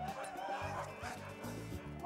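Sled dogs bark and yip close by at a race, a loud overlapping chorus of repeated barks that carries on without pause over a noisy outdoor background.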